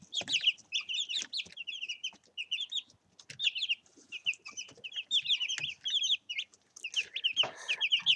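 Young chicks kept as backyard flock chirp and cluck in a busy, continuous chorus of short high peeps, close and fairly loud, with small scuffles and movement beneath and no talking.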